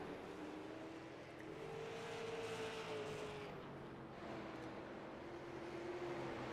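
Race car engines drone steadily in an oval racing video game at Concord, one car running wounded, a sustained whining pitch that rises and holds over continuous loud engine noise with no talk.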